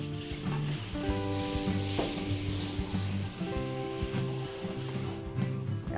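Garlic sautéing in margarine in a pan for Filipino home cooking, a steady close sizzle with stirring scrapes and rubbing sounds running the whole time, no voices.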